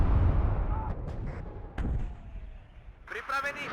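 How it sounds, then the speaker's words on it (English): Artillery shells land on units in the video game WARNO, a low rumbling barrage with a sharp impact burst partway through, heard under a speaking voice. "Oh, and these are getting hit by artillery."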